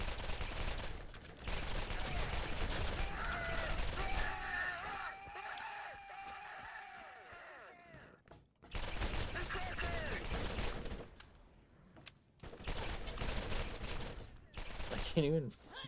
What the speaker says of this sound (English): This gun is absolutely shredding these dudes